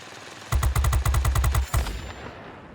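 Aircraft guns in World of Warplanes fire in rapid bursts, a dense string of about a dozen sharp, loud reports lasting just over a second, followed by a short final shot and a fading tail, with no talking.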